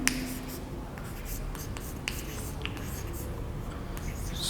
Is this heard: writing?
yes